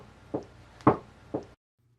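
Three evenly spaced knocks on a bedroom door, sharp and close, the middle one loudest, followed by silence.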